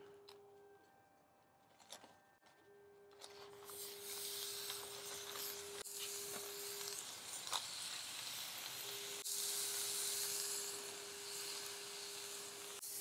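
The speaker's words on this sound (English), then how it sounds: "Now we'll go ahead and grill those patties." Thin burger patties sizzling on a hot grill, a quiet start that swells into a steady, bright hiss and crackle that holds to the end, with a faint tone running underneath.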